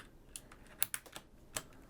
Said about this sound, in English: now I'm just going to continue pulling all the keys one by one.